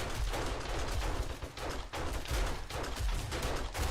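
Rapid bursts of 9mm pistol fire in the survival game 7 Days to Die, a loud, dense run of shots repeating steadily with brief gaps, no talk over it.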